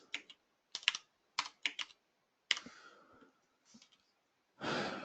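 Bursts of quick keystrokes on a computer keyboard in a quiet room, clustered in short runs with pauses, followed by a breathy sigh near the end.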